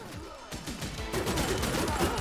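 A turret cannon in Terminator 2D: No Fate fires rapid, dense bursts of shots, packed tightly together and growing busier and louder over a couple of seconds.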